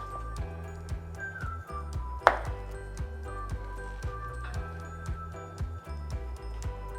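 Knife slicing through a fried matcha green tea tempura ice cream ball, a few soft crunchy cuts and taps on a board over steady low background hum, close and fairly quiet.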